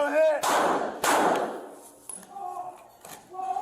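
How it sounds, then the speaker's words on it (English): Two sharp, loud gunshots, fired at police by an armed felon, ring out close together early on, each trailing a broad noisy decay, followed by tense voices talking. "Shots fired."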